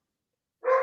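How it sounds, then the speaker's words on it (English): A dog gives one single close, loud bark at the very end after silence. "That sounds like it might be my dog's."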